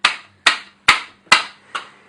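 A bicycle wheel being whacked against a surface to settle its spokes, five loud, sharp knocks in an even rhythm, each ringing briefly with a metallic tail, close up and with no talking.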